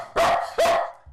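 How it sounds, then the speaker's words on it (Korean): A Bedlington terrier barks twice, loud and close, with sharp, clear yips separated by a short pause. "진동이 익숙해진 듯 같이 짖어대는 탱구"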